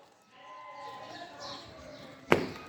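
Sheep bleat through a steady murmur of someone talking, a drawn-out faint call followed by a sharp, loud bleat near the end.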